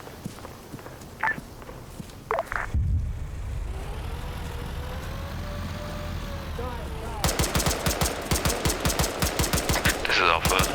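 Tank and gunfire in a combat video game, with scattered shots and a low rumble, then a long run of rapid automatic bursts.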